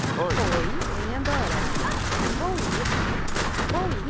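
Musket volleys crackle in rapid, overlapping bursts during an Age of Empires 3 battle, with steady loud gunfire layered with sweeping game effects and talking throughout.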